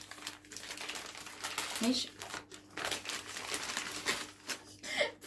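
A heavy package's wrapping is torn open by hand, sustained close crinkling and ripping of paper or plastic with bursts and short pauses, while a person speaks briefly.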